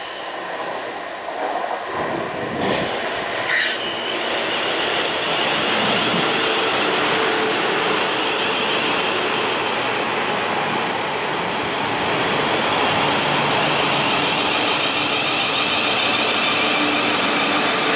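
South Western Railway train at a station platform: a steady loud roar of rolling carriages and wheel noise that continues without a break, with a brief clank early on and no talking.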